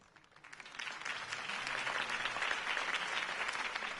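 Crowd applause in the video game Batman The Telltale Series swells from quiet to a steady, dense roar of clapping that holds for several seconds, with no voices on top.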